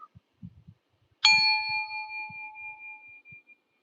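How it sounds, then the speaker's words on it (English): A single meditation chime struck once, ringing out clear and bright with a long, slowly fading sustain, preceded and followed by faint soft movement and breath sounds. "At the sound of the chime, we will begin"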